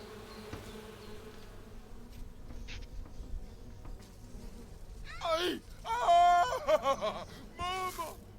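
Angry bees in a video game buzz in loud, wavering bursts during the second half, rising over a quieter stretch of game noise and faint talk.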